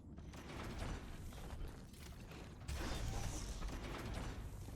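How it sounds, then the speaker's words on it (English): A ship door opens in the space game Wildgate with mechanical creaks and ratcheting, gear-like clatter over a rumbling background, growing louder partway through. "we can hear them open the door"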